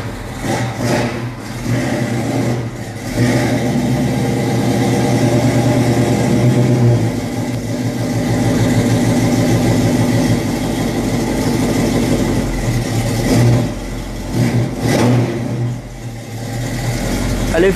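A cold vehicle engine idles close by after starting, a loud mid-pitched rumble with slight surges and wavering revs running steadily throughout.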